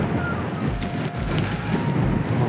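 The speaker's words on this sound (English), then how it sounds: "Wind's starting to build, but it is in a good direction." Wind blows on an open ridge while deer hunting, a steady rushing gust buffeting the microphone with low rumbling surges, loud and close, with no voices.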